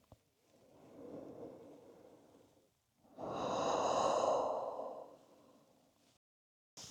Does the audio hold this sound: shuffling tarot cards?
no